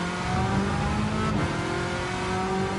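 Race car engine accelerating in Gran Turismo 7 during a World Touring Car 700 challenge, a loud steady drone rising in pitch, close and continuous with no talk.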